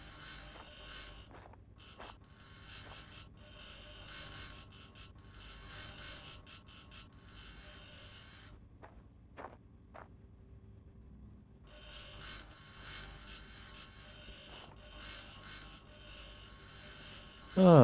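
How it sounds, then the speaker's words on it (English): A grinder in Occupy Mars grinds away at a burst tank, a continuous mechanical whirring and ratcheting that runs for long stretches, cuts out briefly near the middle and then resumes, moderately quiet. "this burst tank is gonna take forever to grind"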